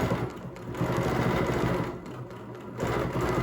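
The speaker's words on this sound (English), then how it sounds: "I'm just going to stitch back down my first line" A sewing machine stitches back along a line, its motor whirring in a steady rapid rhythm, pausing briefly before starting up again.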